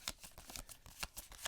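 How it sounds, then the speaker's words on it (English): Arkham Horror game cards are shuffled, a quick run of crisp riffling snaps and flicks close by, quiet and rhythmic with no talk. "I'm just going to shuffle them."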